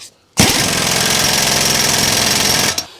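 An impact wrench on its low setting runs on a nut in one loud, continuous rattling hammer lasting over two seconds, then stops abruptly.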